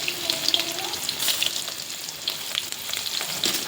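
Onion with cumin and mustard seeds frying in hot oil, a steady close sizzle with crackling pops and spatters throughout, no talking.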